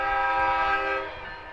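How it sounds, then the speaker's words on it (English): A train horn sounds as a passing train goes by a baseball field during a live game broadcast, a loud sustained blast that fades toward the end, with no voices. "If you think there's a train coming through, your ears are not deceiving you."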